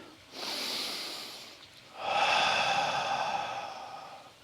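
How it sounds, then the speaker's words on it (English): Two deep, slow breaths, an inhale and then a longer, slightly louder exhale, close and breathy with no talking, taken during a guided Awakening Dragon movement practice. "here's the inhale, the exhale"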